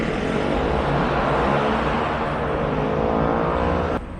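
Constant dense roar of street traffic on Sukhumvit Road in Bangkok, engines and tyres blending into a loud unbroken wash that cuts off abruptly near the end.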